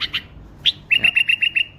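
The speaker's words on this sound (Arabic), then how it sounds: "هذا بيدي هسه وقاعد يغرد" A bulbul held in the hand sings up close, a few sharp chirps followed by a rapid, even run of six or seven bright whistled notes, loud and clear against near silence.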